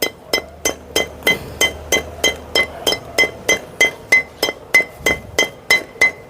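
Steady hammer blows on a metal gearbox part from a Maruti Suzuki Ertiga being repaired for hard gear shifting, about seventeen loud, ringing clanks at a regular, even pace, close up with no talk.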